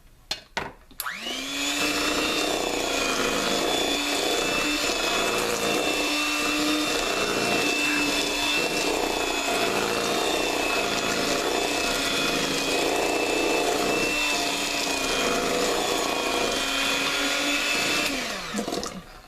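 An electric mixer whirs steadily through pound cake batter, a loud, close, continuous motor whine that starts after a few clicks and runs unbroken for about seventeen seconds before spinning down, with no talking.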